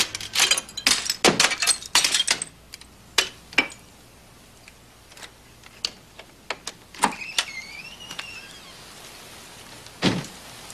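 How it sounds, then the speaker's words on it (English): Window glass shattering in several sharp crashes, followed by scattered tinkling of falling shards, close and crisp, with a few later isolated smashes amid quieter debris. "we're breaking windows now"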